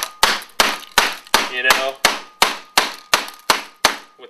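A giant African knife used as a hammer, knocking a sticky computer part into place. About eleven loud, sharp metallic knocks land in a steady, even rhythm at close range, each ringing briefly, with a few words spoken partway through.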